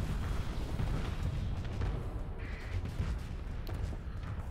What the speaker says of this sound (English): That's a lot of missiles